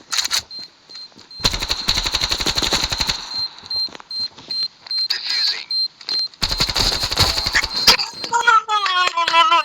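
Heavy weapon fire in a video game rattles out in two long rapid-fire bursts, loud and close, separated by quieter game effects and steady electronic tones, ending in a warbling sound effect.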